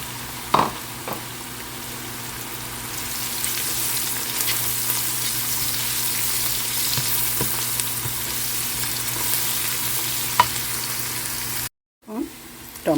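Onion, crushed garlic and green chilli frying in a pan for a catfish curry, a steady loud sizzle with a few sharp clinks of stirring, briefly cut off near the end before the sizzle returns.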